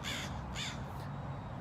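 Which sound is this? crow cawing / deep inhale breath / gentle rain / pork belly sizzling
crow cawing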